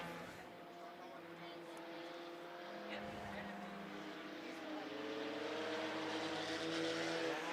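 Race cars roar around the dirt oval at Monarch Motor Speedway, a steady layered engine drone with rising and falling tones as the pack passes, under a track announcer's commentary.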